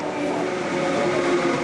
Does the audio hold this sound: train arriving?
yes